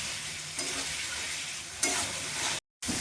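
Ginger, cumin, dried chilli, onion and garlic frying in hot oil for a soybean curry, with loud, steady sizzling throughout and brief scraping swells as the pan is stirred.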